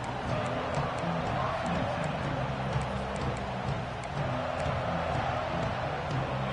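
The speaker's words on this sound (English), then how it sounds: "This crowd ready to make its presence known." Dense, steady roar of a football stadium crowd at a Tennessee vs Georgia game, continuous and loud with no distinct peaks, under a commentator's voice.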